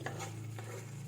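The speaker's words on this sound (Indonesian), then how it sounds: "Ini diaduk-aduk biar nggak gosong air gulanya" A spoon scrapes and stirs sugar syrup in a pan on the stove to keep it from burning, quick close strokes over a steady low bubbling simmer, with no voices.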